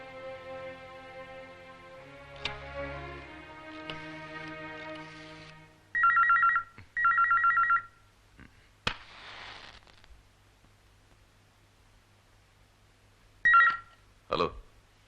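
An old telephone rings in bursts before the call is picked up in a Malayalam movie scene, with a quiet music bed, a couple of thuds and a sharp bang between the rings, and no voices.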